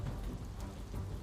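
Heavy rain falls steadily in Kadi, Gujarat, during a downpour that flooded the streets and closed an underpass. It makes a dense, constant wash of rainfall with no voices.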